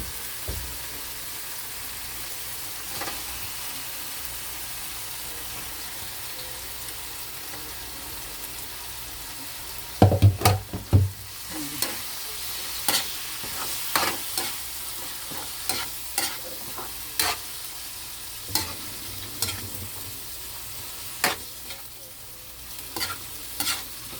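Pork pieces fry and sizzle in a pan with cooked-down tomatoes, a steady hiss of hot oil broken by repeated scraping, stirring clatters of a utensil against the pan, close and clear.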